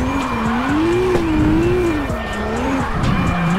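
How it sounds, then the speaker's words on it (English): A car drifting in CarX Drift Racing sends out a loud, continuous tire squeal whose pitch wavers up and down as the slide holds, layered over a droning engine. "what I want to do is that I want to try to keep a drift through this area"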